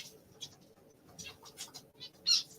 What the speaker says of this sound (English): I love the finches. They're pretty fun to watch.